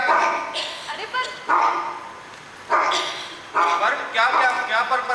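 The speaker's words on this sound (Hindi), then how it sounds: "धत, कितना भौंकता है ये कुत्ता" A dog barks repeatedly in loud, close bursts spaced about a second apart, with whimpering yips between them.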